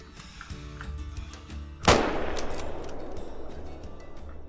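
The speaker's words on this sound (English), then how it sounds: "why not try and take a shot on this blacktail that's out here?" A single sharp rifle shot rings out at a blacktail deer in theHunter: Call of the Wild, fired from a tree stand, its crack followed by a long rolling echo over quiet outdoor ambience.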